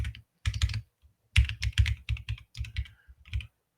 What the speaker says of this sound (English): It's a lot of typing.